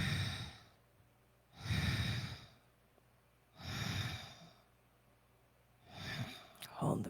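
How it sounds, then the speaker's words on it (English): Slow, breathy exhalations during a guided breathing exercise, four soft airy breaths out evenly spaced a couple of seconds apart, close and quiet, separated by near silence. "Exhale."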